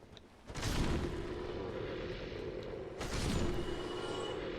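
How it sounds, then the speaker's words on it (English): A demon's explosion attack in Dark Souls, a deep rumbling blast that surges in suddenly, holds as a sustained roar, then swells again with a second eruption a few seconds later. "I am not pleased with how often that demon spammed his frickin' explosion"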